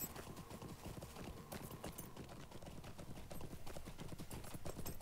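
Hooves clip-clop in a rapid, steady gallop during a horse taxi ride through the Shire in the online game The Lord of the Rings Online, a faint, even rhythm with no voices.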